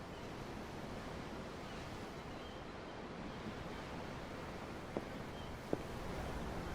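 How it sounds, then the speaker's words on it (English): Steady ocean waves in the video game Tales of Arise wash continuously, with a broad even rush of surf and two faint clicks near the end. "I'm looking at the ocean."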